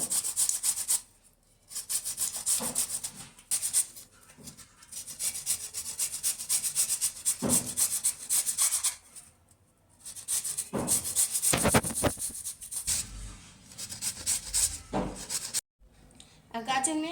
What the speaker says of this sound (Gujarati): આ ગાજરને છીણી લીધા.